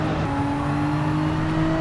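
Race car engine held at full throttle in the Gran Turismo 7 video game, GT2 class car on a track with long flat-out sections, a steady loud droning whine with sustained harmonics and no talk.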